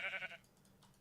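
Sheep in Minecraft giving a single short bleat, faint and brief, followed by near silence.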